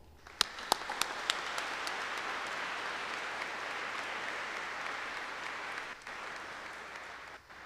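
A ceremony audience breaks into warm applause for Dr. Shuli Wong at a paramedic epaulette and recognition event, a few sharp opening claps swelling into steady, sustained clapping across the room that fades near the end.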